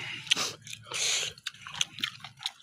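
Someone bites and chews crunchy food close to the mic, with a steady run of wet, crunchy chomps and smacks over a low background hum.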